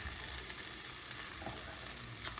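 Onions and garlic cooking in a pan sizzle and fry steadily and softly, a broad continuous hiss with a faint stir or clink near the end, no voices.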